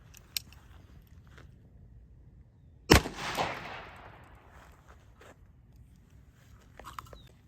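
.357 Magnum round fired at homemade DIY body armor: one sharp, loud crack stands out from quiet surroundings, followed by a short echoing tail that fades over about a second.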